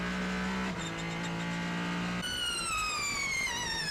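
Le Mans hypercars including a Ferrari 499P racing through a hairpin at Spa, a loud close engine drone shifting pitch as one car passes and another rises in revs, with no talk.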